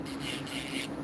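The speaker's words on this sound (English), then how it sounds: "I am reviewing this drill and I love how it works" An electric nail drill filing acrylic nails at home, giving a steady whirring hum with a gritty, rasping scrape over it, close and continuous for a short moment.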